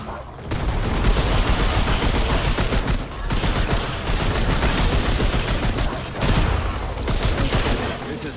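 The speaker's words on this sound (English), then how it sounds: "I like having an automatic weapon" Sustained automatic assault rifle fire in the game Remnant 2, dense rapid bursts running nearly continuously and loud, with only brief pauses around the third and sixth seconds.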